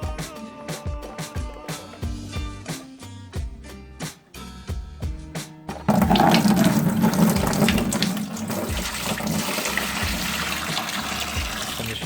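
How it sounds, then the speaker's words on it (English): Milk pours from a half-gallon container into rice wash, sloshing and foaming. A run of separate glugs and splashes gives way to a loud, continuous, close-up pouring stream. "the foaming right now is just from the agitation of pouring in the milk"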